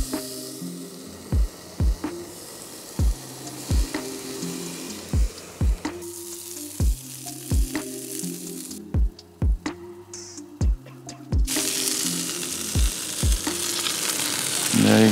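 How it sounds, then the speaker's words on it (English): Morrison's The Best steak burgers fry in chili oil in a pan with a steady close sizzle, broken by regular sharp clicks or taps about every second that give it a ticking rhythm. "We've got Morrison's The Best steak burgers, and we're gonna cook them in the chili that's come off the halloumi."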